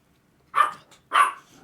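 Two sharp yaps from a small dog, one of two little dogs resting in a warm spot, spaced about half a second apart, close and fairly loud with silence around them.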